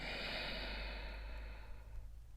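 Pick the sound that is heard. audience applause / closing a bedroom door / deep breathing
deep breathing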